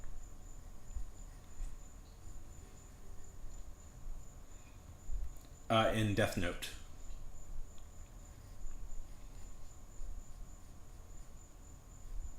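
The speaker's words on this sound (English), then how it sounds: "Because it's late at night and there's a cricket." A lone cricket trills steadily through a quiet late night, a thin, constant, faint chirp in the background, briefly interrupted by a short burst of someone speaking.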